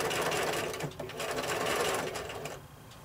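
A sewing machine backstitches through quilt binding in a steady, continuous near whir, with a brief dip in the motor noise partway through.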